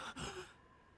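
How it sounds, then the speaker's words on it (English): A sharp, breathy gasp as air is sucked in, voiced in a Tsukihime visual novel scene, heard close and alone before it trails off into quiet. "I gasp as my lungs hungrily suck in oxygen."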